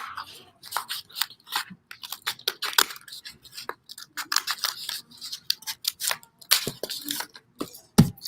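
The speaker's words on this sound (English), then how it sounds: "So I'm going to go ahead and cut bigger" Scissors snipping through folded paper while making papel picado, close up, with a rapid irregular series of short crisp cuts.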